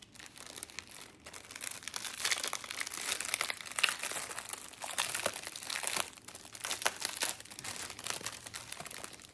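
A plastic pack from a Temu order, holding loose rhinestones and an inventory paper, being handled, giving steady close crinkling and rustling with sharp crackles throughout and no talking.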